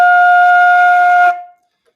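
One held F note on a flute, bright and steady, played solo and cut off after just over a second with a short ringing tail.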